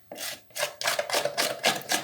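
Plaster being scraped off the top of a mould while casting gypsum skirting boards at home, a series of about five rough rasping strokes in steady rhythm, close and fairly loud with brief gaps between them.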